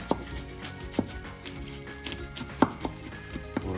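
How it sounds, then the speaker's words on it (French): Knife strikes on a cutting board during prep for salmon and leek lasagne, sharp irregular chops landing several times at close range over a quiet kitchen background with no talk. "je vais couper un tout petit peu"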